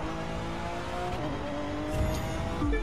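Car engine in The Crew 2 racing game braking into a hairpin, a sustained engine drone with a brief tire screech near the end, close and alone without talk.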